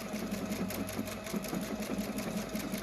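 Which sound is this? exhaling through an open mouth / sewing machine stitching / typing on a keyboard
sewing machine stitching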